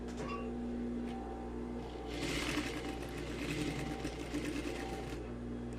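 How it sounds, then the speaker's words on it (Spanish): A sewing machine stitches a diagonal seam on a tailored handkerchief pocket, running with a steady mechanical hum and rattle that grows busier partway through, with no talking. "Cosemos en diagonal."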